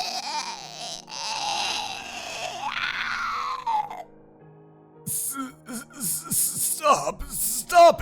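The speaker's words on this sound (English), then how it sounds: "as the poor creature screamed in agony" A voice acts out a creature screaming in agony, with strained, wailing cries and groans for about four seconds, then quieter gasping, sobbing sounds and sharp vocal bursts.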